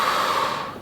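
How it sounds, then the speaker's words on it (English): A single soft inhaled breath during a pistol squat exercise, a brief airy intake close to the microphone with no talking. "Inhale"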